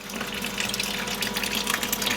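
Water flushing steadily through a 20-inch carbon filter housing fed from mains water, a continuous close rushing gush with no pauses and no voices.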